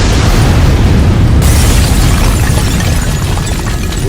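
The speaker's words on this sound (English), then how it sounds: "self-destruct feature has been activated. Exploding in 3," A loud, sustained self-destruct explosion roars continuously, a dense, close rumbling blast that fills the whole moment without letting up.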